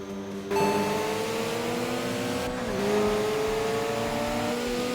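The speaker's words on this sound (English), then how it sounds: "Just me kind of skidding around because I need new tires." Video game car with a rotary engine and worn tires, engine droning steadily with rising and falling pitch sweeps as it slides around, loud and continuous with no talk.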